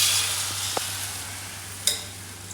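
Dosa batter sizzles in oil on a hot tawa griddle, a steady soft hiss with a couple of faint taps and clicks, no talking.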